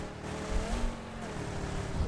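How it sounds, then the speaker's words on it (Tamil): A vehicle engine in the mobile battle royale game BGMI, a steady droning motor passing nearby with low rumbling thumps, fairly faint and continuous throughout. "வண்டி போகுது. அங்க பாரு முன்னாடி வெஹிக்கிள்."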